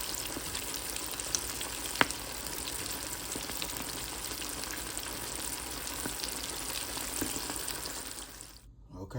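Stuffed shrimp with salmon sizzle steadily as they fry in hot oil, a dense continuous crackle with a few sharper pops, close by and alone until it cuts off at the end.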